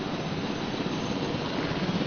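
A helicopter flies in Jurassic World Evolution, a steady, dense rotor and engine rumble that holds even and loud throughout, with no talking.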